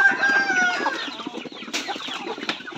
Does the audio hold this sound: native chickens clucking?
yes